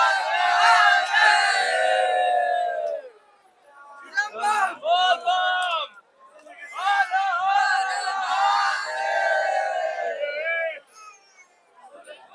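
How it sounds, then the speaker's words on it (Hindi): Thousands of Hindu pilgrims on the banks of the north-flowing Ganges at Sultanganj, on the first day of Shravan, raise loud chanted shouts in several long surging bursts with short lulls between them. "आप देख रहे हैं हजारों श्रद्धालुओं की भीड़"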